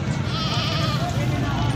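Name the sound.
goat bleating at a sale of sacrificial goats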